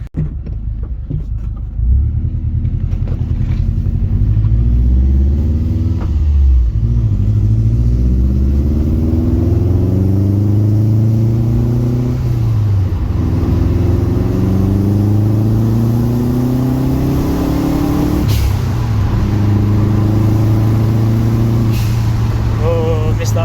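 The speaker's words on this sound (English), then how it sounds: "let's go for a drive" A car rolls along a dusty road in the Australian desert, its engine rumbling steadily with shifting gear whines and revs, loud and close throughout, with occasional knocks and rattles.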